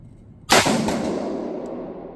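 A single sharp rifle shot from a Cru Arms TEMP556 piston-driven .22 rifle, a loud close crack that rings out into a long decaying echo at an outdoor range.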